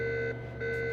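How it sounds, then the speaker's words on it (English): In the video game Alan Wake's American Nightmare, a steady electronic alarm tone drones in a continuous pitched beep that briefly drops out midway, then resumes. "All these alarms"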